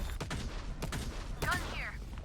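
A couple of short gun blasts pop during a ranked match of the shooter VALORANT, close and punchy amid game effects and a voice speaking.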